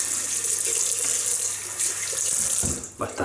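Tap water running steadily into a sink while hands are wetted for shaving, a loud continuous hiss and splash that breaks up into uneven splashing near the end.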